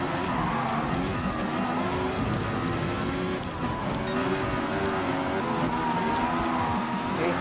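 A Formula 1 race car in Gran Turismo Sport roars at high revs with continuous engine whine and some tyre scrub, loud and unbroken across the whole stretch.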